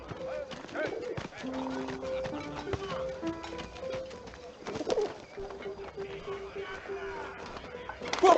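A pigeon cooing in the war game 11-11 Memories Retold: soft bird calls mixed with clopping hooves and shuffling, set under a background of music tones, with some voice sounds present.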